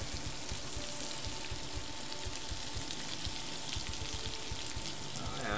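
Potatoes Lyonnaise sizzle steadily in butter in a pan, a dense, even crackle that holds without pause and without talk.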